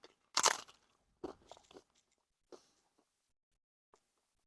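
A crunchy Oaxacan tostada is bitten with a loud, sharp crunch, followed by a few quieter crunching chews that grow sparser and fade in a near, quiet setting.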